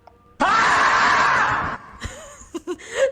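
A streamer lets out one loud, sustained scream lasting over a second, then breaks into short laughing and groaning sounds, close to the microphone.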